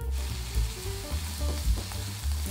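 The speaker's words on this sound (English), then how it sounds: "Heat up the sesame oil in a frying pan. Then add the grated ginger and garlic and saute." Steady sizzling and crackling of grated ginger and garlic frying in hot sesame oil in a frying pan, with occasional soft stirring bumps, close and continuous.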